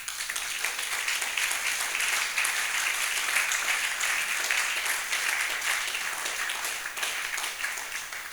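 Congregation at a church service applauding, steady dense clapping from many hands filling the space for the whole stretch, with faint voices underneath.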